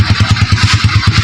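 A Suzuki Shogun motorcycle engine runs loud and close during a test drive, its steady rapid chugging pulse thumping evenly throughout.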